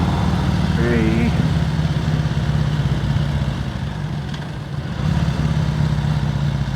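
Harley-Davidson Ironhead XLCR motorcycle engine idling with a steady low rumble throughout, lasting several seconds, with a brief voice-like sound early on.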